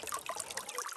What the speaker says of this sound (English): So this water comes from their spring that's up the side of that mountain right there. Just flowing down, freely flowing all day.